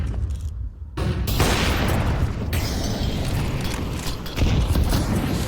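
A Molotov fire burns in Counter-Strike 2 on the Mirage map, giving a steady, loud broadband crackle and roar that runs the whole time. There is a brief dip near the start and the sound swells again toward the end.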